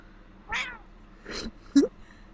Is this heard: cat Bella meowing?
yes